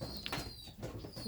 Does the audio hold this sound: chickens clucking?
no